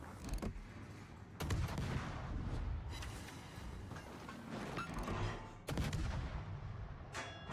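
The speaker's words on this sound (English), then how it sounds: "So he's randomly shooting now." Gunfire in a video game: sharp, loud shots at irregular intervals, with several heavy bangs standing out and a dense rumbling din of shooting between them, no talk.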